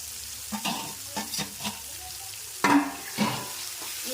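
Ginger paste frying and being stirred in a pan for a chicken curry, with bursts of sizzling and scraping strokes at irregular intervals, close and moderately loud.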